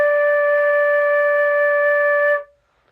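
A single sustained flute note D, clear and close, held steadily for over two seconds before cutting off cleanly into silence.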